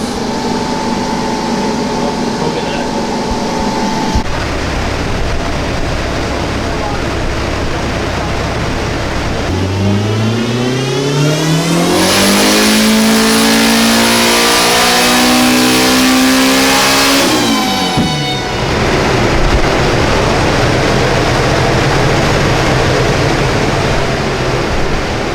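Toyota MR2 fitted with a turbocharged K20 engine on a dyno at a street-racing shop, idling roughly then climbing through a long, loud full-throttle pull to a screaming high-rpm peak before dropping sharply back to a rumbling idle.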